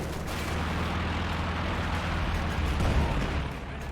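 Light machine gun fire from paratroopers in the World War II strategy game Company of Heroes 2 rattles through dense battlefield din, a continuous rumble of guns and blasts that swells briefly near the end.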